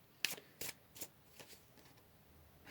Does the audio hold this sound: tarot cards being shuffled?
yes